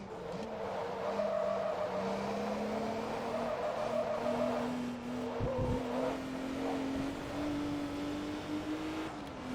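A four-wheel drive car in Forza Motorsport 2 understeers through a turn, tires squealing in a long steady whine over the droning engine, loud and continuous with a brief thud midway.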